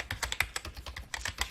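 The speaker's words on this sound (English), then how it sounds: "the Democrat State Senator Noel Frame is typing away at her little computer" Quick, uneven keystrokes clatter on a computer keyboard, close and crisp, about a dozen taps with a brief pause midway and no voices.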